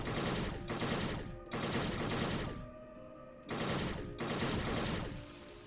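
Loud bursts of automatic gunfire from a gun in the video game Fallout Equestria: Remains, four rapid volleys of roughly a second each separated by short gaps, with no talking.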